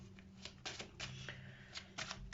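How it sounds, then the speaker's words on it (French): Playing cards shuffled for a tarot-style card reading, a run of crisp riffling bursts and soft slaps repeating close by, with no talking. "je vais couper et je vais tirer 13 cartes"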